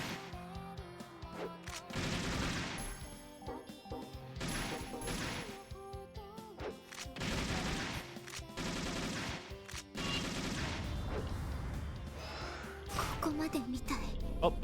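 Gunfire from The Caligula Effect Overdose, sounding as repeated loud bursts of shots and impacts over dense game music, with talk throughout.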